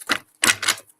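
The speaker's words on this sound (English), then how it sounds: "we got a good shuffle going on here" A deck of tarot cards is shuffled in three quick, crisp riffling bursts close to the microphone, with short gaps between them and no talking.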